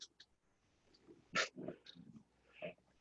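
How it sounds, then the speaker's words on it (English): A dog, Max, gives a few short, fairly faint barks and whimpers indoors during a physics lecture, scattered irregularly over a quiet room background. "Max, shut up, dog."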